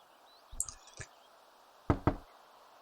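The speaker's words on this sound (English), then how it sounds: "And knock." A door knocked in the Desperate Housewives video game, two separate pairs of hollow raps, close and fairly loud, with quiet background between them.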